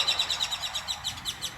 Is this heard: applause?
no